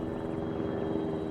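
Arma 3 gunship helicopter droning steadily overhead, a continuous low rotor-and-engine rumble with no breaks, fairly loud and alone.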